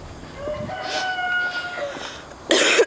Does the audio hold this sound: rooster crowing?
yes